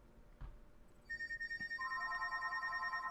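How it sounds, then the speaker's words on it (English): A telephone rings with a repeating electronic ringtone, close and fairly loud, starting after a brief knock and continuing as steady pulsing tones through to the end. "He's getting phone calls."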